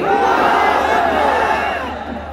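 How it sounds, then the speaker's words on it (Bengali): A large crowd at a religious gathering roars a takbir together, a dense, sustained wall of massed voices that holds loud for about two seconds before starting to fade. "সবাই গলা ছেড়ে দিয়ে আওয়াজ করেন তো, লিল্লাহি তাকবীর"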